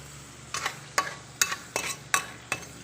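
Garlic sautéing in fresh cooking oil for pork dinuguan, a soft sizzle broken by six or so sharp spatula scrapes against the pan at a steady pace, close and without talk.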